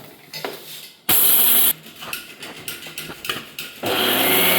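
Mixer grinder grinding coriander seeds and dried chillies into gun powder, a loud steady whirring motor in bursts, a short pulse followed by pauses with quieter clatter, then a second sustained run at the end.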